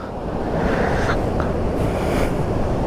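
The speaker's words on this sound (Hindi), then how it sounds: "खळखळणारा हैदोस घालणारा समुद्र" Sea waves crash and roll steadily onto the shore at Kunkeshwar beach, a loud continuous surf roar with wind buffeting the microphone.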